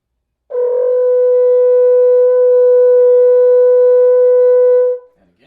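A horn sustains a single steady F sharp for about four and a half seconds, clean and loud with a clear attack and a smooth release, alone with no talk.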